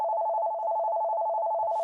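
A telephone rings with a steady, loud electronic trill that holds without pause and then cuts off abruptly at the end.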